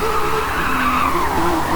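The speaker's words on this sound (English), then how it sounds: "Beautiful smoke and noise being created off this Formula Drift car in Nissan Silver" A Nissan Silvia Formula Drift car slides through a drift at a car parade, its tires squealing loudly and steadily over a roaring engine for the whole stretch, with no talking.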